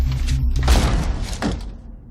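A door is forced down in a movie scene: heavy thuds and a crashing impact ring out close and loud, followed by a second splintering crash as the noise fades.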